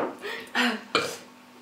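Three short, croaky burps come in quick succession after a chubby bunny and buttermilk challenge. They are close and fairly loud, and the last one tails off quickly.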